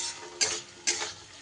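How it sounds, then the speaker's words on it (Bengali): Bitter gourd sautés with spices in a hot pan, with a soft background sizzle broken by two sharp scraping strokes of a spatula stirring. "সুন্দর করে আমি মশলার সাথে উচ্ছেটাও দিয়ে এইভাবে কষিয়ে নিচ্ছি।"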